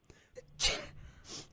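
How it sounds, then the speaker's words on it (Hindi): A single sharp, close sneeze bursts out from a person sick with swine flu, preceded by a quick intake of breath and followed by a faint breathy exhale. "छींके मारी जा रही है बैठे बैठे"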